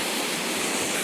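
Steady broadband rush of water flowing deep inside Hull Pot, a large limestone chasm in the English countryside, heard as a continuous, even roar with no distinct splashes and no voices.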